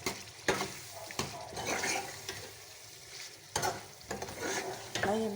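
Spoon stirring and scraping qeema in a pan with yogurt, tomato and onion, a soft sizzle running under irregular stirring strokes, close and moderately loud, with no talk.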